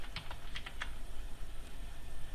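Someone typing a name on a computer keyboard into an Excel 2010 spreadsheet: a quick burst of several close, light key clicks early on, then a quiet background with no talking.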